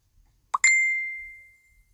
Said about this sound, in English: I forgot to turn the sound off on my phone, so I'm getting messages